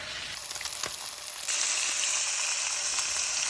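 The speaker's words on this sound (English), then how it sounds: "add some more oil to the pan and let it kind of sear on both sides" Seasoned fish searing in hot oil in a pan gives a steady, close sizzle that swells louder partway through and then holds a bright crackling hiss with no talking.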